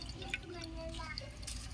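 Two cups of rice go into a pot of boiling water for white biryani, giving soft, faint splashing and bubbling with a few drips, with a low voice in the background.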